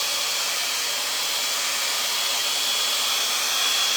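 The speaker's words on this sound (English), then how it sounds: "you're blow drying and styling at once" A hair dryer blows hot air continuously while hair is dried and styled, a loud steady close-up whoosh with no pauses.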